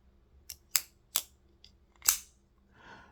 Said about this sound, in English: oh, listen to that thwack sound now